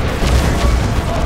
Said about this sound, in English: Down goes the Baneblade.